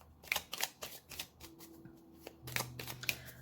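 Tarot cards being shuffled by hand in short, crisp riffling bursts at a steady rhythm, close and fairly quiet, with a faint low hum underneath.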